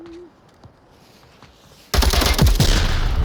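C4 explosive detonating in the VR shooter Onward during a competitive match: near-silence breaks into a sudden, massive close blast that keeps roaring and crackling to the end.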